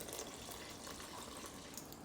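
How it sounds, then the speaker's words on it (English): Warm tap water pouring for sourdough dough: a steady, soft hiss and splash of running water, faint and unbroken. "I'm putting in 700 grams of warm filtered, well, it's not filtered, it's from my tap water."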